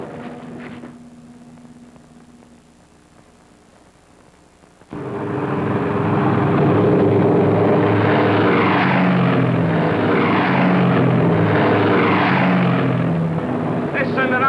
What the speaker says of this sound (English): Every bomber on the island's pulling out.